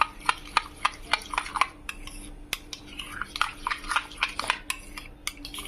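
Homemade aloe vera gel is stirred in a container, with a utensil clinking and scraping against the sides in quick irregular taps, close and fairly crisp, with short pauses between bursts.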